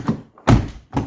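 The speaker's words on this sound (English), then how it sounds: "we're going to shut the door" A Chrysler Grand Caravan door is shut, giving a short dull thunk amid a few light taps and knocks, close and otherwise quiet.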